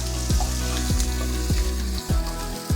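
Finely chopped ginger and garlic fry with whole spices and onion, giving a dense, continuous sizzle and four rhythmic stirring strokes close by.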